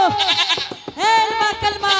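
A goat bleats repeatedly in wavering, strained cries while being dragged along, the calls loud and close and running almost without pause.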